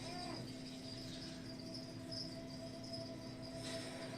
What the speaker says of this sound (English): What is that? Crickets?